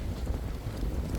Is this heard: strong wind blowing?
yes